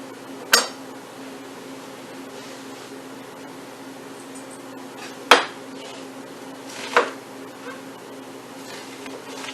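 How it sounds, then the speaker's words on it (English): Kitchen knife cutting and quartering an onion on a board, three sharp separate chops spaced seconds apart over a steady background hum. "And then you're going to quarter your onion."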